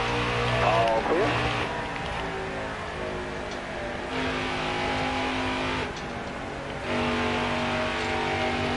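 Race car engines roar in NASCAR Heat 4 during the Gander RV 150, a dense, sustained high-revving drone from several cars with pitch shifts as the field runs close together.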